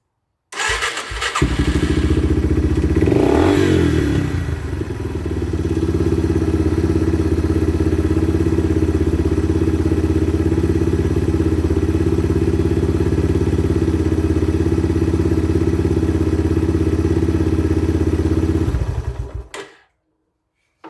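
A Yamaha TTR 230 dirt bike engine starts with a clattering crank and thud, then idles steadily and loudly close by for about twenty seconds after an oil change before cutting off abruptly, with no talking.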